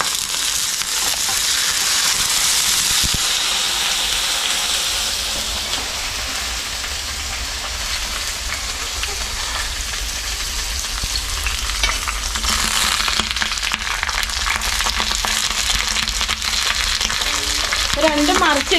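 Fish frying on a banana leaf in a covered pan, a steady loud sizzle and crackle running throughout with no voices, occasional faint clinks near the end.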